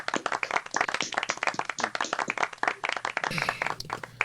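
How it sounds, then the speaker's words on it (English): Several people clapping over a Zoom call for a guest artist, sharp close hand claps in an uneven overlapping rhythm, slightly compressed and choppy, with a brief shift in tone near the end. "feel free to unmute everyone and give Miles a round of applause"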